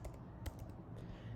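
Fingers tapping out a project name on a computer keyboard, a quiet run of quick uneven keystrokes close by over a low steady hum, with no talk.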